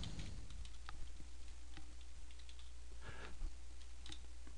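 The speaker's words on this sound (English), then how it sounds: "We type the word rollout." Keys on a computer keyboard click in a quick, uneven run of soft taps as a word is typed, faint and close over a steady low hum.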